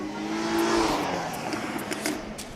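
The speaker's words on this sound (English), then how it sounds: "And there goes a Jaguar F-Type. That sounded pretty good. I think that was the V6." A Jaguar F-Type V6 sports car drives past, its engine note rising loud and close then fading away over a couple of seconds, with a few sharp clicks at the tail.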